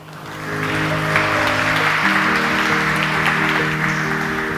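Audience applause welcoming Michael Craig, Managing Director and European Head of Private Credit at Invesco, to the stage at an investment talk: a steady, full wash of clapping that swells within the first second and holds evenly throughout.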